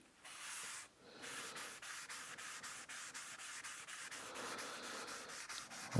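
Wood stain being rubbed by hand into a Gibson Les Paul Studio guitar body: close, steady rubbing with a regular rhythm of strokes and soft scuffing, continuous throughout, with no voices.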